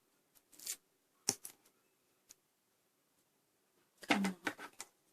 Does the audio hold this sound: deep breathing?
no